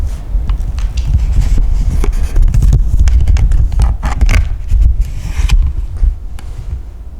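Soft footsteps inside an old building, a series of irregular thuds and scuffs with steady low rumble of wind or handling noise, close to the microphone and fairly loud throughout.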